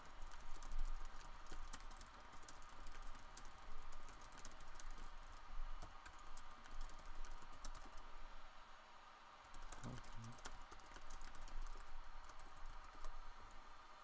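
Someone types a blog post on a computer keyboard, a quiet, uneven patter of close key clicks that runs on and off against a low background hum, with a brief pause partway through.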